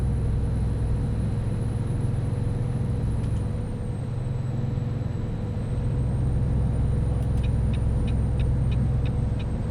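A heavy truck engine drones steadily while overtaking a slower vehicle in American Truck Simulator, a constant low rumble with a faint whine above it and brief air-brake hisses near the end.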